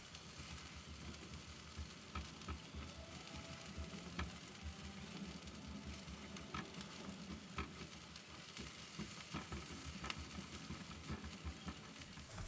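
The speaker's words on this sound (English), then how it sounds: "crack 2 eggs into your pan. And you'll want to scramble them" Two eggs scrambling in a frying pan beside fried rice, a steady close sizzle with frequent light scrapes and ticks from stirring throughout, no talking.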